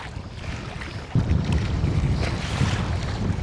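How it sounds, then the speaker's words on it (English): Wind buffets the microphone as waves slosh against a kayak on a large lake, a steady rough rush with a sudden louder gust partway through and no voices. "the wind has picked up and so have the waves"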